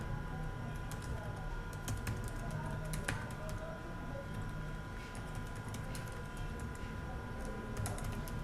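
Fingers tap a computer keyboard while a name is typed into an online trading-account registration form, with quick clicking keystrokes over a steady background hum.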